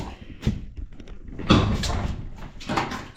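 An outdoor toilet door that touches down on the floor is forced open in a few scraping, bumping pushes, with a louder scrape midway and brief gaps between efforts.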